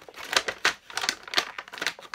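Crinkly plastic packaging being torn open by hand, a quick irregular series of sharp crackles and rustles, close and loud, with no talk.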